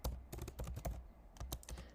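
Quick, irregular keystrokes on a computer keyboard while entering a prompt into a spreadsheet cell, crisp and close with brief pauses between bursts, fairly quiet.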